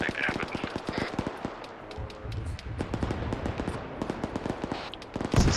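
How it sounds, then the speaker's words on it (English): 40mm grenade fire aimed at a BMP in an ArmA 3 battle, heard as a steady stream of sharp, close reports and bangs at a fast, uneven rhythm, with voices faintly mixed underneath. "stop shooting 40mm at the BMP"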